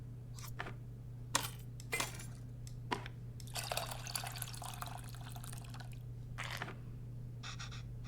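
Tamarind water poured into a bowl in the cooking game Venba, heard as a close, thin trickle with scattered drips, clinks and splashes over a steady low hum, with no talking.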